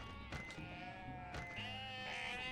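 Sheep bleat in the video game Unmetal, with a sustained, wavering cry rising over steady game background sound and a second bleat joining near the end.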